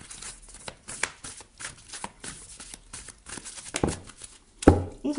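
Oracle cards being shuffled and drawn by hand, a run of soft rapid riffling flicks and slaps, close and fairly loud, ending in a sharper snap as a card is pulled.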